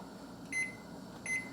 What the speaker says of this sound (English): So we're going to set our timer for about 5 minutes